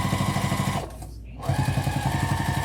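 A sewing machine stitches a tote bag with a vinyl zipper overlay in a steady, rapid mechanical whir, pausing for about half a second to turn the fabric before resuming at full speed.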